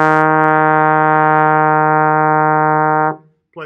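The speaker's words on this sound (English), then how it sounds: "Then the next note is E flat. We bring the slide up where the bar is even with the bell. Third position." A trombone sustains a steady E flat in third position, one long, even, close tone held for about three seconds before stopping, followed by a short noise.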